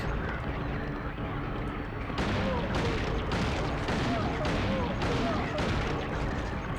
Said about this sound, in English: Alright, go to town with the handgun.